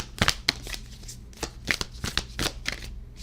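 Tarot cards are riffled and shuffled by hand to draw a Sailor Moon card, a series of close, crisp rapid bursts of card flutter with short pauses between.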